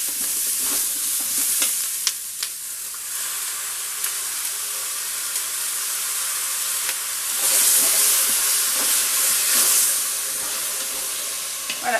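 Tomatoes, chickpeas and onions browning in a Cookeo multicooker, with steady loud sizzling and hissing, a few stirring scrapes, and a brief louder burst of frying partway through.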